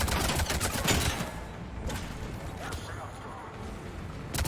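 Sustained gunfire from the Mass Effect 3 video game, with dense rapid bursts and booming shots layered together, loud throughout and rising again at the end.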